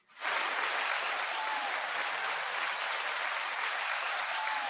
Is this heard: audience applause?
yes